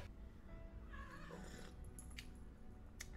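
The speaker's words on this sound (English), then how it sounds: "Aw, my cat's so cute." A cat meows, a short wavering call heard fairly close over a low steady background hum, followed by a few faint higher squeaks near the end.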